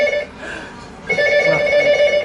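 A mobile phone rings with a steady tonal ringtone, pausing briefly and then resuming, fairly close and clear with faint room sound.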